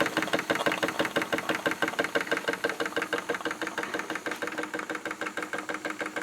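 A Wilesco D-18 miniature live steam engine runs as a small power plant, giving a fast, even mechanical chuffing and knocking that repeats in a steady rhythm, loud and close with nothing else over it.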